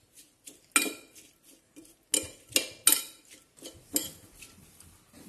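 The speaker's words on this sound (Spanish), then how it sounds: "Mezclamos." A utensil mixes ingredients with lemon and salt in a dish, giving a series of sharp metallic clinks and scrapes against the bowl, close and irregular, with quiet pauses between strikes.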